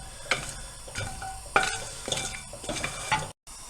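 Mango chutney ingredients frying in a pan: a steady sizzle with a spoon repeatedly scraping and clinking against the pan, close and fairly loud, with no talking.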